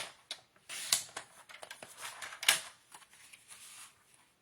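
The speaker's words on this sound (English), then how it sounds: "I'm going to cut just a smidge" Scrapbook paper trimmed in a handful of quick, crisp snips and rustles, close and fairly quiet, irregular little bursts of cutting and handling with no talking.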